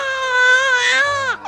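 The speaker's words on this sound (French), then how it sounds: "Tu entends ton fils? Il sent que sa mère est triste et il pleure aussi." A baby cries in a steady, close, high wail that drops off sharply at the end, with no talk over it.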